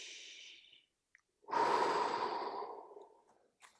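Heavy exhale and sigh of a person catching their breath between strength holds in a yoga-style workout, a loud rushing breath after a softer earlier breath, alone with no talk.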